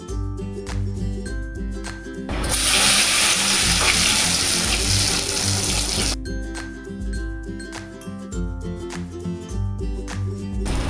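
Black chickpea snacks fry in hot oil in a kadhai, a loud sizzling hiss swelling when they go in, with a stir and clinks, then settling back to gentle bubbling.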